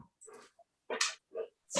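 A pet dog making short whimpering, snuffling vocal noises close to a microphone during an online panel, four brief bursts separated by silence.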